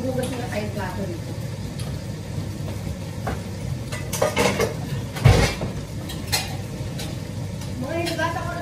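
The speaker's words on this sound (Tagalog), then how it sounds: "At maghugas na tayong plato dito." Plates and dishes being washed at a home kitchen sink, with soft clinks and scrapes under steady running water and a voice talking over it, while adobong sitaw cooks nearby.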